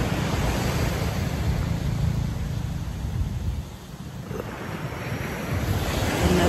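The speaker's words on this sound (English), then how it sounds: "we receive our blessing from this beautiful Mother Ocean here in the shores of Japan at the Pacific" Pacific Ocean surf rolls onto a shore in Japan, a continuous broad wash of breaking waves with wind buffeting the microphone, briefly easing before surging back up.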